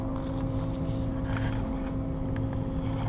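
Blowers of an HVAC air handler run beside chilled water coils, giving a steady, loud mechanical roar with a constant low hum and even whooshing airflow throughout.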